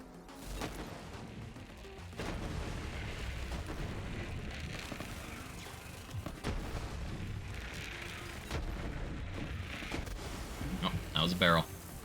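A barrel explodes in a shooter video game amid a running firefight. Dense bursts of gunfire and booming blasts pile up over several seconds, ending in a sharper, louder burst near the close.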